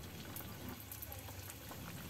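Spring rolls wrapped in lumpia skins fry in hot oil, giving a steady, dense sizzle and bubbling that continues evenly throughout at a low, close level.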